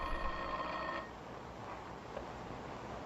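A telephone rings with a bright trilling bell inside a televised mystery scene, one short ring that ends after about a second, then quiet.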